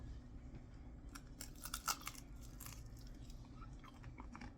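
Crunchy air-fried cheesy tuna fritters, sprayed with avocado oil, get chewed close to the mic in a run of quiet, crisp bites and crunches, with no talking.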